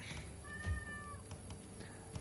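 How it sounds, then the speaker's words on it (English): A pet cat gives one drawn-out meow indoors, fairly faint and held for under a second, over a quiet room hum with a few small clicks from a gaming setup. "Yep, I heard the cat."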